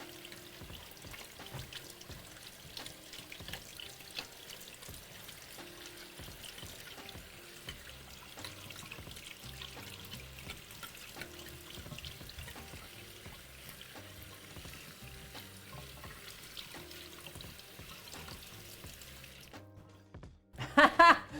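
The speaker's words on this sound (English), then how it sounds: "So now it says to rinse it with cold water, just any extra starch" Cold tap water runs and trickles steadily over cooked sago tapioca being rinsed, a continuous faint pouring wash with clinks underneath, ending in a brief louder clatter.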